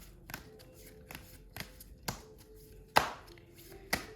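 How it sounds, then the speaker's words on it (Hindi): Tarot cards being pulled from a deck and shuffled, heard as a series of soft, sharp taps and riffling snaps at irregular intervals, with a louder slap near the end, close and quiet with no voices. "let's pull out some more cards to gain more clarity in our reading for all of us"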